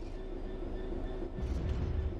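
Train in Train Sim World 3 braking to a stop: a steady low rumble of rolling stock with a faint tonal hum, swelling slightly louder near the end, no voices.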